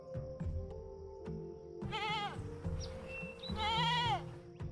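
A mountain goat gives two clear, wavering bleats amid quiet outdoor background with low rumbling, the calls moderately near and separated by a short pause.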